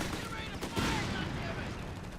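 Machine gun fire rattles in bursts during a Company of Heroes 3 battle, a dense, fairly faint clatter of gunfire layered under battlefield noise.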